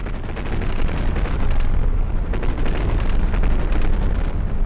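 Rapid anti-aircraft fire rattles on in a battleship video game, a dense, loud stream of overlapping gun bursts with deep booming rumble underneath, continuous with no pauses.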